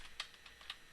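A few light, spaced clicks of keys on a computer keyboard as Cisco switch commands are entered, quiet and close with no voices.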